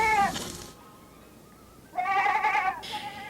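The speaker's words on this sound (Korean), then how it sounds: "오늘은 염소들이 만문한 쑥을 많이 먹고 있습니다" Goats grazing on mugwort in a natural pasture let out loud, close bleats, one at the start and then a longer wavering cry followed by another, with quiet gaps between them and no talking.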